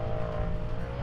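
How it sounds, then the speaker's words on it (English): Off-road vehicles racing and spinning donuts on sand dunes: a steady, loud engine drone with a constant tone, close by and heard alone. "they're racing out there, they're doing the donuts."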